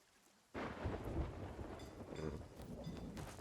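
A rumble of thunder breaks in suddenly with rain pouring down during a storm in the pirate video game Sea of Thieves, loud and sustained after a quiet start, with no voices.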